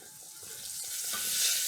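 Carrots sizzle in a hot pan as they are stirred, a steady bright frying hiss that builds slightly louder, with a soft scrape of stirring and no speech.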